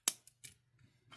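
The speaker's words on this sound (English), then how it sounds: "Now we're going to snip off this excess." Scissors snip through excess beading wire on a handmade necklace, giving a sharp, close cut followed by a few softer clicks and faint handling noise.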